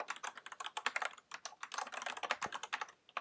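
Rapid, close clicking of fingers typing on a computer keyboard, a dense irregular stream of keystrokes with short pauses and no voices.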